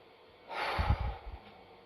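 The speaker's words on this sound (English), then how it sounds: "The first is breathe out." A person breathing out deeply, one long breathy exhale that swells and fades over about a second, close and fairly quiet with no talk.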